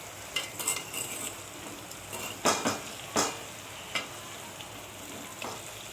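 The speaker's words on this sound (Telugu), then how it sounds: "ఒకసారి మొత్తం కలిసేటట్టు కింద నుంచి పైకి మొత్తం ఒకసారి బాగా కలిపుకుందాం." Ivy gourd pieces stirred in a pan with a soft background sizzle and a few distinct scraping, clinking strokes of a utensil against the pan, moderately quiet with no talking.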